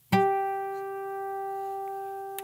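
A single clear guitar harmonic played at the 12th fret rings out, a pure bell-like tone sustaining and slowly fading, with a faint tap near the end.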